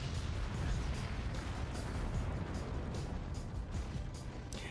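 Cannon fire and a nuke landing in a video game match: a dense, loud wall of rumbling noise studded with repeated sharp blasts, with faint voices underneath.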